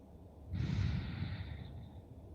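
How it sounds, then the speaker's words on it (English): One slow, deep breath taken in a calm yoga session, a sudden airy rush that gradually tapers off, heard up close in quiet with no voices. "Deep breathing."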